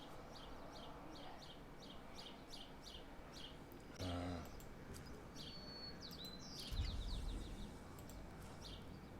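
A string of quick, evenly spaced bird chirps repeats in a steady rhythm over a soft ambient bed, broken by a brief low thump and a later rumble, with no talk.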